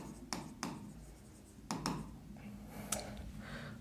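Chalk or marker strokes on a board during a chemistry lesson: short scratchy taps and quick strokes in irregular bursts, close and fairly quiet, with no talk.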